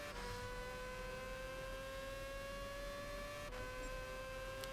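Race car in Gran Turismo 6 holding near top speed on a long straightaway, a steady high-pitched engine whine with a brief gear-change dip near the start and another near the end, without talk.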